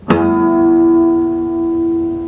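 A single bright, bell-like guitar harmonic at the fifth fret rings out clearly and sustains, slowly fading over a couple of seconds.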